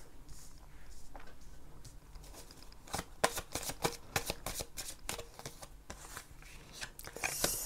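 A Tarot de Titania card deck being shuffled by hand, a run of crisp riffling flicks and sharp card slaps that bunch into dense bursts near the middle, close up, with no voices.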